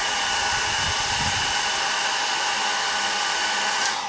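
A hair dryer blows a steady, loud whoosh of air to dry alcohol ink, running continuously and alone with no voices.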